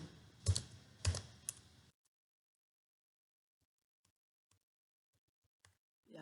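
Someone types a username on a computer keyboard: a few loud, close keystrokes in quick succession. Silence follows, broken by a couple of faint taps.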